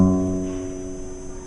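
One low guitar note, sixth string fretted at the second fret, sounds clearly and then gently fades over a second and a half with its overtones sustaining.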